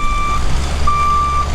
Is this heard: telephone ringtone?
no